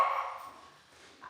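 Household dogs barking indoors, with one bark at the very start and a shorter bark right at the end, separated by near silence and no speech.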